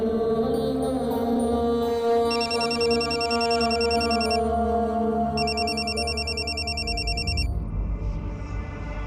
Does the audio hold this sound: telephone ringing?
yes